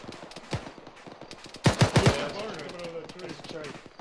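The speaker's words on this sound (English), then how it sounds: "We got a heavy gun to the east, up the hill." Heavy gun firing from the east, up the hill, during a military field training exercise: a quick burst of loud automatic shots with rolling echo, preceded by scattered softer reports and faint talk.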